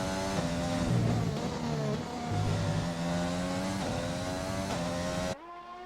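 A Red Bull race car from a Belgian sim racing series runs a lap, its engine screaming and shifting up and down through the gears in quick bursts, loud and close, with no talk.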